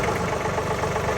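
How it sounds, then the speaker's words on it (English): A John Deere 3039R compact tractor with a 300R loader idles at low RPM, a steady close diesel rumble with a fine mechanical flutter and no talk over it. "Turn the tractor on."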